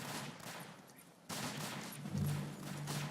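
Maxim machine gun fire in a World War I video game set at Tannenberg, a loud dense burst of rapid shots that thickens and holds steady after a short lull.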